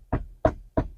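Three sharp knocks on a surface in a house, evenly spaced and fairly close, each a short dull thud with no voices.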